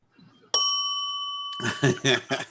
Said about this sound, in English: Oh, that was Jim's bell